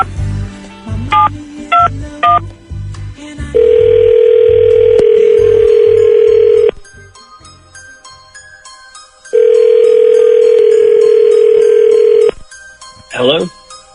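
A landline phone is dialed: a short run of DTMF keypad beeps, then a long steady dial or ringback tone, a gap of low background, another long tone, and a final brief warbling burst, loud and close.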